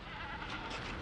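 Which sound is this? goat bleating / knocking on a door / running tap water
goat bleating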